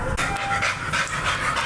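A shelter dog pants rapidly and close by, a rhythmic string of breathy huffs running through the whole moment with no talk.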